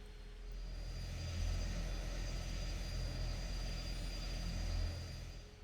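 The turboprop engines of a De Havilland Dash 7-150 taxi in the X-Plane 11 flight simulator as a steady, loud droning hum with a low rumble that swells slightly and then eases, with no talking.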